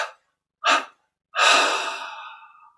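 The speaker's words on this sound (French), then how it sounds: "on inspire profondément par les narines. On expire en 3 fois." A deep inhale through the nose followed by a breath let out in parts during a yoga meditation, close and alone: short breathy bursts, then a longer fading exhale.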